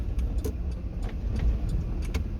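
A single car passes along a small-town main street in Fritch, Texas, its steady road and tire rumble heard fairly close with faint light clicks over the low drone.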